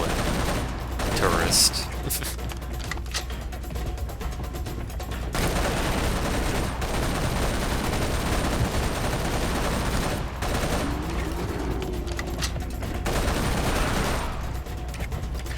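Gunfire in Serious Sam 3, a steady loud barrage of rapid shots running through most of the stretch with brief pauses, a voice speaking briefly over it.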